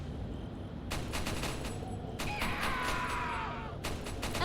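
Bursts of rapid video game gunfire from Resident Evil, with Leon shooting at men, come in clusters of sharp cracks across the clip over a steady background din, with a brief rising whine in the middle.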